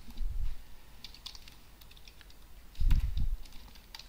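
Steady typing on a computer keyboard while writing PHP pagination code, a close, continuous patter of small key clicks with a couple of heavier thumps from the spacebar or desk.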